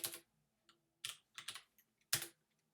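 Someone types a name on a computer keyboard: several crisp, close key clicks in irregular clusters with short pauses between them, and no talking.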